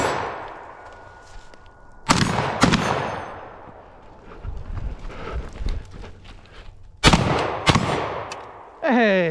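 A Fostech Origin 12 shotgun fires buckshot and number 8 shells outdoors, about five loud, sharp blasts in two quick pairs and a final shot, each ringing off into the surroundings.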